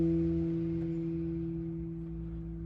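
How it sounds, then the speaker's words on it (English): A single acoustic guitar harmonic at the 12th fret rings out as a clear, sustained bell-like tone that slowly fades, close and alone without speech. "when you place your finger gently, over the string at the 12th fret, you get a harmonic."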